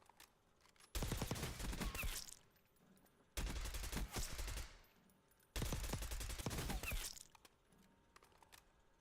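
AK rifle on rapid fire in a video game: three loud, sustained bursts of automatic gunfire, each lasting about a second or more, separated by short quiet gaps.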